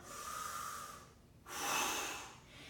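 Two sharp breaths drawn in, each a hissy rush of air, during a choir breathing warm-up, close and fairly loud with a brief gap between them.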